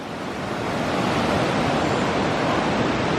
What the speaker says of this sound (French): Il y a une grande rivière comme ça qui passe.